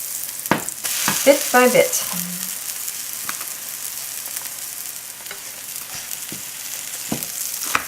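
A buckwheat and almond flour pancake sizzles in a hot pan as it is flipped, with a steady frying hiss, a few sharp clacks of the utensil against the pan, and a short spoken remark over it.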